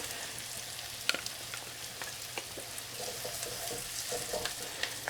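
Tomato paste sizzles in a pan with onion and sausage for Persian sosis bandari, a steady close frying hiss broken by light clicks and scrapes of stirring.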